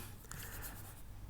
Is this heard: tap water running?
no